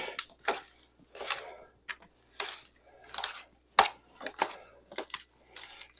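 Cooked ham is pulled apart by hand and with utensils, giving a run of close, moist tearing and scraping bursts with occasional sharp clicks, about a dozen in quick irregular succession.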